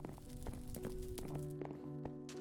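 Horse hooves clip-clop in Minecraft near village stables, a steady run of light hoof knocks under a faint musical background.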